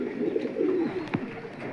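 Satin pigeons, a fancy domestic breed, kept in pairs at a bird seller's in Karambakkudi, giving soft low cooing murmurs up close, steady and unbroken, with no talking.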